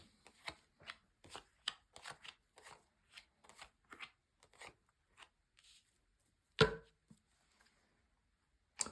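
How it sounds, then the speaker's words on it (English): Tarot cards are laid one by one onto a table, a run of about twenty crisp, close slaps and taps in an uneven rhythm. One louder thump lands near the end, then there is quiet. "So let's just lay down your 10 cards on the table"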